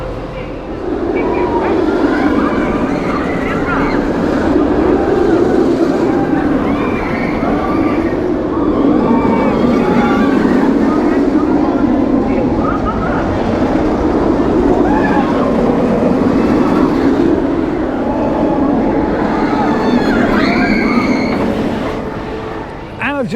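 A ride on the Nemesis Inferno roller coaster at Thorpe Park gives a steady, loud roar of rumbling wheels and rushing wind for over twenty seconds, with screams and shouts of riders rising and falling throughout.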